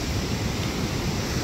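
Rushing water of a raging creek near the Hite Bridge, a steady loud broadband roar with low churning turbulence and no breaks.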